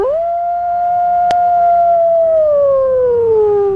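A single long, sustained howl sung by a human voice imitating a wolf, loud and clear, sliding gradually downward in pitch at the close of a radio talkback call.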